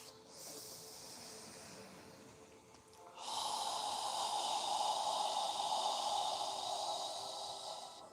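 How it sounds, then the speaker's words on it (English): A slow, controlled exhale through an open mouth, a steady breathy hiss as if fogging a mirror during yoga breathing, sustained for several seconds after a quieter lead-in, close and alone without talk. "as you exhale, imagine you're fogging a mirror with your breath"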